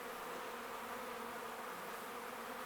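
A dense, steady drone of honey bees buzzing inside an opened hive, a continuous hum with many insects close by and no voices.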